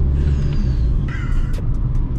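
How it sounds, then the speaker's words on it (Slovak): Fake blow-off valve on a Skoda Octavia hissing and whooshing over a loud, steady engine rumble, with short airy bursts partway through, close and prominent. "Veď pamätáte si ten fejkový blow-off ventil"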